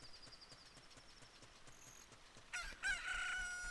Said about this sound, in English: Look, a chicken hatched from the egg.